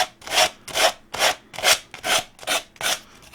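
Excess decoupage paper is rubbed off along the edge of a wooden Easter bunny cutout with repeated rasping strokes, about eight even back-and-forth scrapes, close and clear with no talking.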